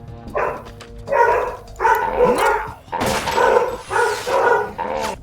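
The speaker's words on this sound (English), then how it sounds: "It was so perfectly timed with the dog barks" A dog barks repeatedly in Metal Gear Solid 2, loud and close, a rapid run of about seven barks in a steady rhythm with little pause between them.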